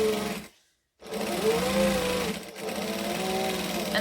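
A sewing machine stitches a seam along the top edge of a fabric hobo bag, its fast motor whir running steadily and loudly up close, pausing once briefly before resuming.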